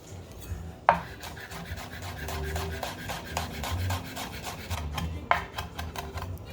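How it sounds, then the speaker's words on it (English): Fresh basil is chopped with a knife on a board in a quick, steady run of crisp, close cuts, and two sharper knocks open and close the burst. "Meanwhile, chop the basil"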